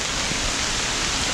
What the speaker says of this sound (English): it's starting to rain more from light to that medium rain